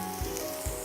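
Steady close sizzling of a beef steak roll frying in a pan, with a couple of soft low bumps as it is stirred or moved, no voices.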